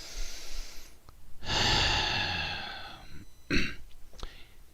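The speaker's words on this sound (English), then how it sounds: "Take a deep breath." A slow, deep breath drawn in and let out, one long airy swell followed by a shorter sharp exhale and faint rustles, close and fairly quiet with no words spoken.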